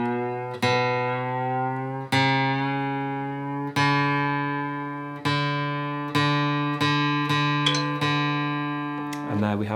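An electronic tuner sounds a guitar D string reference note, plucked about eight times in an uneven rhythm, each clear tone ringing and fading before the next one.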